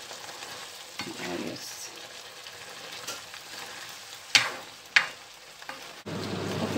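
Chicken fajita frying in a pan while being stirred, steady sizzle with sharp scraping strokes of the utensil, close up, with a brief spoken word.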